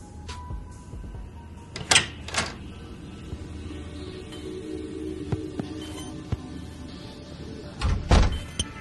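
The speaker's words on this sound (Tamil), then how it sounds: "சரி, கதவை திறக்கிறேன்." A door is opened indoors, with a couple of sharp knocks and clacks early on, a quiet stretch of room tone, then a louder thud and rattle near the end.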